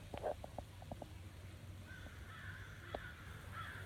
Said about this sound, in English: And the crows just keep coming.